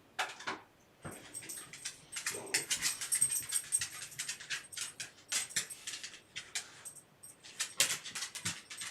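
A dog named Buddha whimpers and whines in short, high, irregular bursts at close range, with soft snuffling and faint jingling between cries in an otherwise quiet room.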